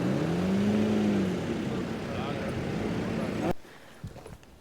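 Busy town-centre traffic at a crowded junction in Berat, Albania, where vehicles queue up a sloping street: a steady close engine rumble with a passing car's changing tone, cutting off abruptly near the end to a few faint knocks.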